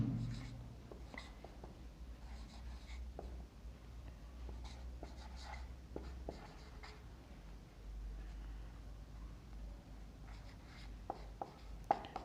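A pen writes out given physics data on paper, with steady, faint, close scratching strokes and small taps over a low room hum.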